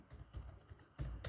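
Keys tapped on a computer keyboard in short, uneven clusters, close and fairly quiet, with a louder burst of strokes near the end and no voices.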